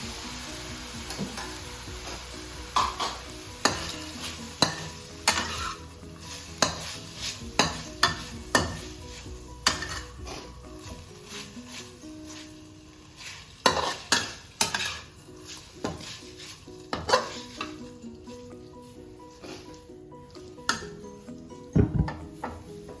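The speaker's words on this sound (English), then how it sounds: "put the spaghetti on the pan" Spaghetti is stirred in a frying pan, utensils clacking and scraping against the metal in irregular sharp knocks over a steady low sizzle, with no talking.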